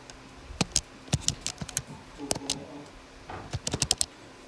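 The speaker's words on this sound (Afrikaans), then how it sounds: "Iemand tik het gou in hulle sakrekenaar." Someone presses keys on a pocket calculator in a classroom, producing quick, irregular clusters of light clicks and taps, fairly faint and close, with no talk over them.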